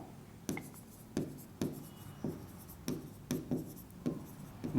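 Pen strokes on paper, close and clear, form a regular series of short scratching bursts about every half second, with no talk over them.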